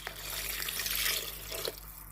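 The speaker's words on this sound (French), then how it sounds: "maintenant, je vais rajouter mon eau. Donc, j'ai pris 300 ml d'eau." Water, 300 ml, poured into a Monsieur Cuisine Smart food processor while making jambalaya, giving a steady soft splashing stream for a couple of seconds with a faint drip near the end.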